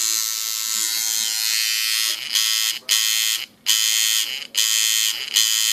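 A tattoo coil machine loaded with a single needle and set to a short stroke runs with a loud, steady electric buzz, cutting in and out in several short bursts at close range.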